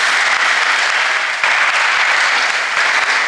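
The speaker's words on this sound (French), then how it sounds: "Je demande à l'Assemblée de l'acclamer encore pour ce bel enseignement." An audience fills a lecture hall with steady, loud clapping to acclaim a professor after a lecture. The dense applause keeps going throughout with no break.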